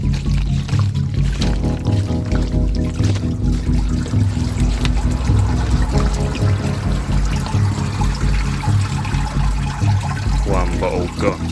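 Water tipped from a bottle drains steadily through a bonsai soil mix, making a continuous close trickling and gurgling wash that runs throughout.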